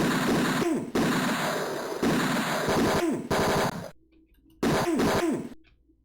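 Gunshots in the PC game Tex Murphy: Mean Streets, coarse low-fidelity bursts of repeated firing, loud and close, separated by brief silent gaps.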